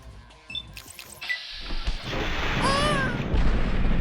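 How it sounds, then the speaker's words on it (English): A bomb explosion in a video game, a sudden blast followed by a rumbling, crackling tail of debris and rising whistling effects, loud and filling the foreground without any talk. "The explosion took a massive chunk of her health down."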